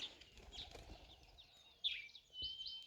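Birds around a permaculture homestead in Kenya chirp and flutter faintly in the open air. Scattered high calls and a burst of wing flapping come and go over a quiet background.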